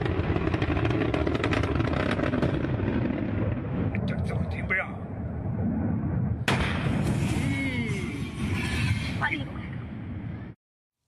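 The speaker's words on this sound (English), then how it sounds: "The Tianlong 3 spacecraft detached during a launch pad test, blasting off before it returned to the ground, exploding on a mountainside." Tianlong 3 rocket blasting off by accident during a launch pad test, then crashing and exploding on a mountainside: a continuous heavy roaring rumble with crackling bursts and an abrupt sharp onset midway, loud throughout until cut off.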